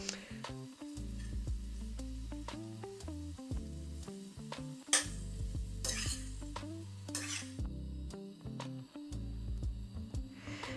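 Spaghetti stir-fried in a pan gives a soft sizzle and scraping stirs under prominent background music, with a few sharper clatters of the utensil against the pan.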